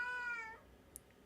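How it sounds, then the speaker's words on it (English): A single drawn-out cat meow, close and clear, fades over about half a second, followed by a tiny high chirp in an otherwise quiet scene from the Genshin Impact game. "Cat cameo"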